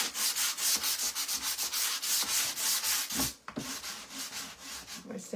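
A wooden sign being sanded by hand: fast, steady scratchy strokes in a continuous rhythm, close and loud, easing briefly near the middle before resuming more softly. No one talks.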